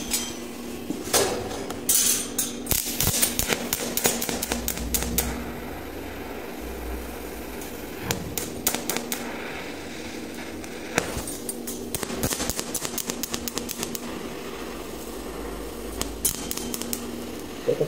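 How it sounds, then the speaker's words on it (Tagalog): Metal welding work, with a welded joint tapped repeatedly to check it, producing bursts of quick, light metallic clicks and taps interspersed with quieter gaps and faint background noise. "Ito pala pinipitik-pitik ko guys kasi hindi ko makita yung hinangin."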